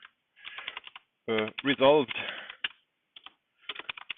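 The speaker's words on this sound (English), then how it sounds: "I'm typing. Do you hear that?" Computer keyboard typing in short clicky bursts, mostly in the gaps around a speaking voice, close and moderately loud.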